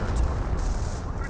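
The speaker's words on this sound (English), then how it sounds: "M2 barrage raiding on in" An M2 mortar barrage in the video game Company of Heroes rumbles with heavy, continuous low booms and crackling impacts, loud and dense, under a commentator's voice.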